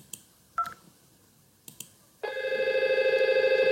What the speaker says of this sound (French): Le téléphone sonne.